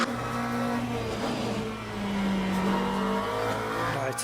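Racing car in the video game Le Mans Ultimate, its engine droning steadily at a held pitch that lifts slightly and settles again, loud and close.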